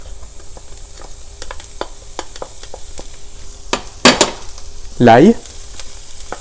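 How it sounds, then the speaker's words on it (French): Onions and lardons frying in olive oil, a soft continuous sizzle with a couple of loud stirring scrapes near the end, and one short spoken word. "On vient ajouter les oignons qu'on va faire revenir jusqu'à ce qu'ils soient tendres. À ce stade, on ajoute le lardon."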